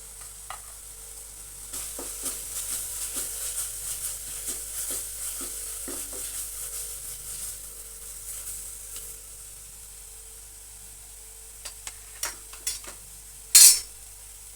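Gobi pepper dry, cauliflower with spices, gets stirred in a pan over a soft continuous sizzle, with repeated light scrapes and taps of a spoon and a sharper clink near the end.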